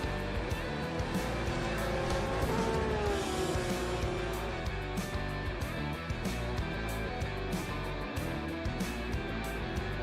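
GT3 race cars circling Zandvoort in rFactor 2, engines whining and buzzing nearly without pause, with gear-change stutters and pitch sweeps as cars pass close, a voice speaking over them.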